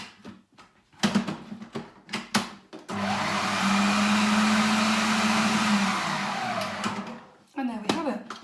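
A kitchen blender blitzes wild garlic pesto in one loud, whirring run of about four seconds, with a steady grinding drone. Scattered handling clatter and taps come before and after it.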